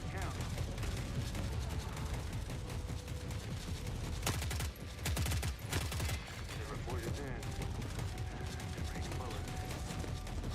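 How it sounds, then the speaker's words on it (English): Rapid gunfire aimed at a mech in the video game The Forever Winter, dense bursts of shots and clanking mechanical noise, with heavy volleys in the middle amid continuous game background. "Oh, they're shooting at the mech."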